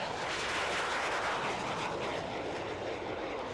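Hawker Hunter jet fighters, a two-seat T Mark 7 trainer and a red F Mark IV, pass at an airshow, a loud continuous jet roar that swells and slowly fades as they fly by.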